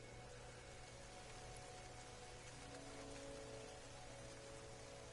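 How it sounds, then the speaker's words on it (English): A rainstorm in No Man's Sky: dense, constant hiss of heavy rain on surfaces, close and unbroken for the whole stretch, with no speech. "Weather warning. Incoming storm."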